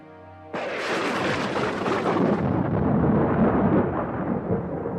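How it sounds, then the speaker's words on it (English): A sudden loud crash of thunder bursts out and rolls on as a long, dense rumble that stays heavy and sustained to the end, with no speech. "Thunder crashed over the house."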